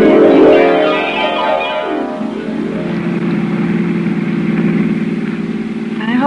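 A car engine runs steadily in a 1950s radio drama, a rising rev at the start settling into a smooth mid-pitched drone that carries on alone without talk.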